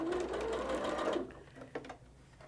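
Sewing machine stitching quilt fabric strips with a steady, fast motor whir that runs for about a second, then stops, leaving a few faint handling clicks and rustles.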